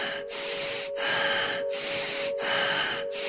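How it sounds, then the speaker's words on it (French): A person breathes in a rough, deep and fast rasping rhythm, about five loud, close hissing breaths with brief pauses between them, steady tonal hum underneath. "rasping breath, deep and fast"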